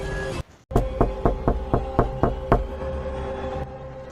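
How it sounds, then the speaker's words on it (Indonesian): Eight sharp, evenly spaced knocks on a door ring out in a steady rhythm over a low ambient hum, then the hum lingers after the knocking stops. "Tiba-tiba terdengar ketukan dari balik pintu."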